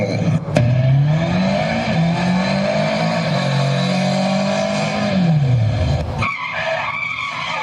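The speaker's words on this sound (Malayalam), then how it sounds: "ആ ബൈക്ക് ഓടിച്ചത് ടോമിയാണല്ലോ. അയ്യോ, എന്റെ ടോമി, അവൻ നിർത്താതെ പോയല്ലോ." A motorbike in a comedy skit speeds past, its loud engine droning and whining at a shifting pitch for several seconds. The roar then cuts off abruptly as it goes by, with no speech over it.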